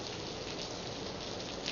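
Steady rain falling after weekend storms in McNairy County, a dense, even hiss of drops on surfaces, continuous and fairly loud throughout with no voices.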